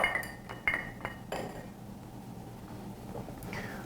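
Clear, translucent cocktail ice cube being picked up, giving a few bright glassy clinks and taps in the first second and a half, then a quieter tail with a faint later tap; no talking.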